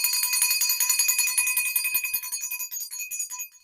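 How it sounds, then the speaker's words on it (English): A hand bell rings continuously with a bright metallic shimmer, shaken rapidly at close range, then fades with a few trailing strikes. "I will have to use my mom's bell"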